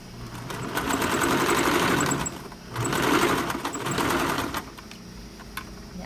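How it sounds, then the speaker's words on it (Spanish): A sewing machine stitches a shirt collar along its interfacing in two steady running bursts of rapid, even needle rattle, loud and close, with a brief pause between and a quieter stop at the end. "Vamos a coser por donde está el pellón"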